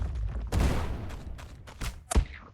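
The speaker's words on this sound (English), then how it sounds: "So we'll throw this bomb here." A thrown bomb in the video game Core Keeper goes off in a burst of sharp, crackling blasts followed by a few more quick pops, close and fairly loud.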